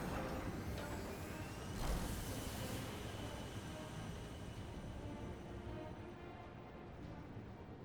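Doomtrain, a train in the video game Final Fantasy XIV, rumbles along in a steady dense roar with a brief louder swell near the start, fading slightly toward the end; no talk.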